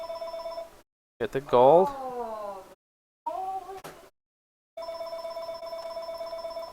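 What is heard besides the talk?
telephone ringing during a Minecraft let's play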